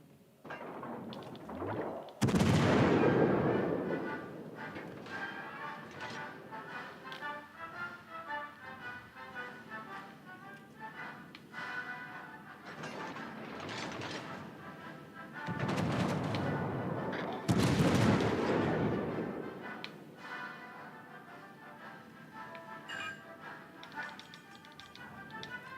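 Heavy warship main guns fire in World of Warships: Legends, two loud booming salvos several seconds apart with rumbling decay, set among steady engine and battle noise and game voice alerts.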